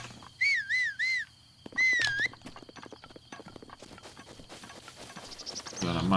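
In Breath of the Wild, Link whistles two rising-and-falling tunes in quick succession, answered by the clatter and patter of running footsteps through the game world.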